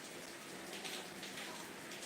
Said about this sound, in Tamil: ஆமாம், இங்கேயுமே வந்து மழை தான்.